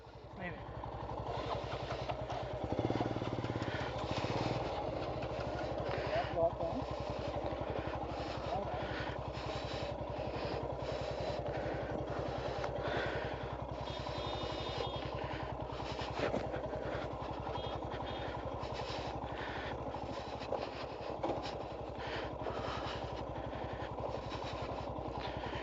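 A motorcycle engine idles steadily in gear near a cave site in Odisha, a continuous low chugging hum throughout, with people talking over it.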